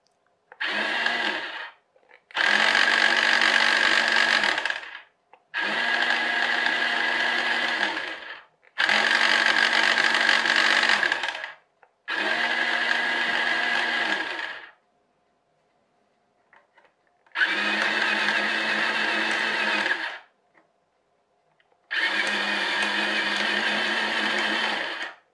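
An HL Toys RC bulldozer power scraper's drive runs in seven loud, whiny motor bursts of a few seconds each, separated by short silences, with no talking.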